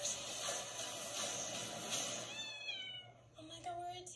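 Cats in an action movie trailer let out a few short, rising meows near the end, over a dense, loud music and effects bed.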